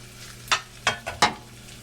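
Ingredients cooking in a too-small pan for homemade Italian spaghetti sauce, giving a few short stirring scrapes and sizzling bursts over a faint steady background hum.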